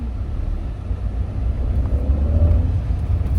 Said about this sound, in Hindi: अब हमने धीरे से गाड़ी को बढ़ाया